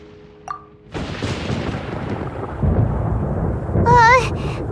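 A thunderstorm rolls through Genshin Impact, with a long, loud rumble of thunder building from a brief sharp crack and swelling into a heavy roar, followed by a warbling tonal game effect near the end.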